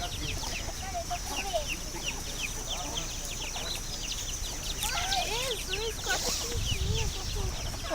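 Hens and small chicks cluck and peep close by, with bright chirps scattered over a continuous busy farmyard murmur and faint voices in the background.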